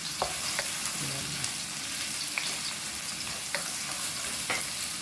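Ginger, onion and garlic sauté in a hot pan for beef pinapaitan, a steady loud sizzle with occasional light clicks of a spatula stirring.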